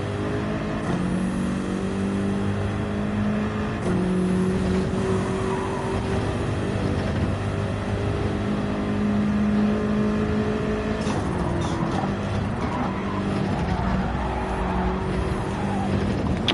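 Race car engine in Gran Turismo 7 pulling hard out of a corner, a loud steady drone with rising tonal bands as it upshifts through the gears, continuous and close throughout.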